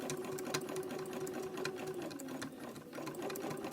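A sewing machine loaded with serger thread runs at a steady, fast whir with a clattering needle beat, stitching fabric-wrapped rope into a coiled bowl, close and continuous with no pauses.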